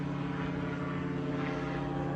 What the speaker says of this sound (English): plane going up above